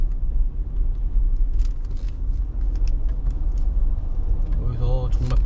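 Used Audi diesel car running quietly on the road, a low steady rumble with faint rattles and clicks and a brief rise near the end.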